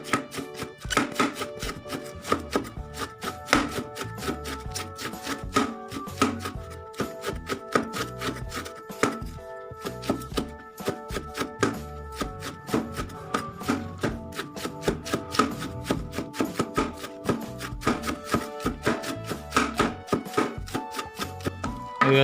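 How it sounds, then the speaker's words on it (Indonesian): A knife slices cabbage and other vegetables for bakwan fritters on a cutting board, producing quick, close, rhythmic chopping taps that continue steadily with no talking. "Oke guys, bahannya kita iris-iris dulu."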